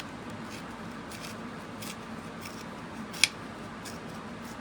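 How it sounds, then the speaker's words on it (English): Paper being torn by hand for a stamping craft, soft rustling strokes over a quiet room hum. "So I'm going to tear that, and I'm going to leave it."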